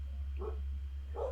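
A dog gives two short, muffled barks about a second apart, moderately distant, over a steady low electrical hum.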